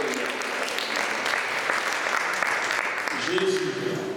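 A church congregation at a French-language worship gathering applauds and cheers in a steady, dense wash of clapping that fills the whole stretch, with voices mixed in and a brief sung or sustained vocal tone near the end.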